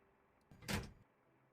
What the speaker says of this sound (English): Let's go and close this door here.